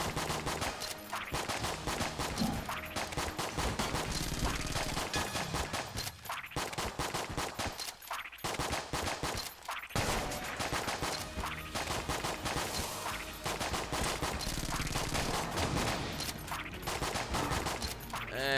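Dense, continuous gunfire from the Enter the Gungeon video game, rapid bursts and volleys layered over game music and effects, loud and nearly unbroken throughout with no talking.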